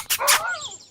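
A dog gives two quick close barks followed by a short whining, yelping tail, all brief and clear with no talk over it.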